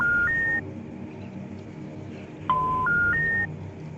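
Telephone keypad dialing 911, with a short pair of dual-tone beeps followed after a pause by a quick run of three more tones, over a steady low background hum.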